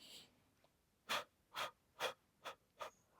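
Slow, deliberate breaths taken during a Pilates upper body and core exercise, five close, soft exhalations evenly spaced with short quiet gaps between them.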